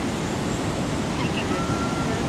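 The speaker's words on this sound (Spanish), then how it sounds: "El mar." Sea waves roll in at night along the shore of Iquique, Chile, a constant roaring surf wash with wind buffeting the microphone.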